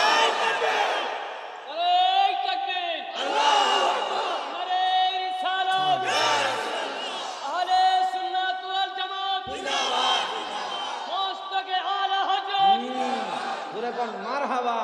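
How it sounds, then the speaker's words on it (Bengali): A large crowd at a Bengali Islamic sermon gathering shouts a loud takbir in repeated, roaring collective calls, rising and falling in waves, one close amplified voice leading and the mass of voices answering. "আর জবানটা খুলে একটা জোরে তাকবীর দেন"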